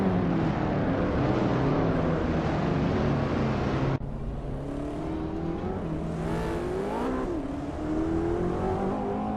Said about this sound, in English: a 2007 Lamborghini Reventon, a modern street car known for its sleek design and powerful V12 engine